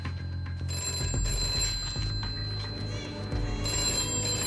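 A telephone rings in a room, its repeated electronic tones sounding steadily over a low rumbling background with faint voices underneath.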